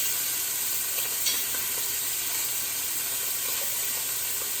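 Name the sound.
beef pieces browning in a hot pan for stew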